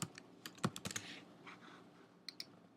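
Computer keyboard keys are typed in a short burst to label a drum track in Cubase, crisp close clicks in a quick cluster followed by a pause and two final taps.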